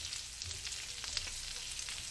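Cheese-topped birria tacos fry in a pan with a steady, close sizzle and occasional crackling pops, no voices over it.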